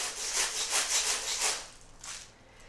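A shaker egg filled with beads, shaken in a quick rhythmic run of bright rattling swishes, close up, then a final lone shake after a brief pause.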